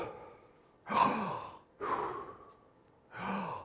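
A man imitates Kussmaul breathing with three deep, forceful breaths, each a long airy rush separated by short pauses, heard close and without words.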